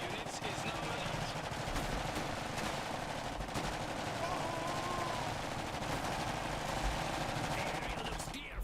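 Suppressive machine gun fire in Iron Harvest, a sustained rattle of rapid shots over a dense battlefield din, with scattered sharper bursts and steady distant gunfire throughout.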